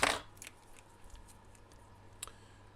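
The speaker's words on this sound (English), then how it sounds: "So just do the central folds against that knife blade" Small photo-etched brass part for a 1/200 HMS Hood model being folded against a knife blade, giving a sharp metallic snip at the start and a few faint ticks and clicks afterward in a quiet room.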